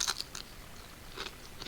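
Close, crisp crunching from someone chewing crispy keto food, several bites in an uneven rhythm at moderate volume, with no talk.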